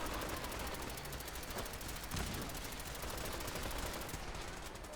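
Rapid automatic gunfire in Fallout 4, a continuous rattling burst of shots filling the whole stretch, loud and dense, with no talking.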